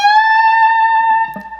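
One bent electric guitar note from a solo sustains steadily and close, ringing clean before fading near the end with a faint touch of fret noise.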